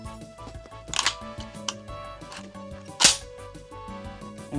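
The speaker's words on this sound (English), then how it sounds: "You'd push your rounds down into it" Rifle rounds being pressed from a stripper clip down into the magazine of an SKS (Type 56) rifle, giving a few sharp close metallic clicks and snaps with quieter shuffling between them.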